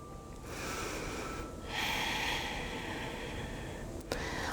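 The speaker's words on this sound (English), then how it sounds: "Just breathe it out." A strong, audible exhale through the nose in a yoga child's pose, followed by long, breathy out-breaths close to the microphone that rise and fall with a slight wheeze, and a short snort near the end.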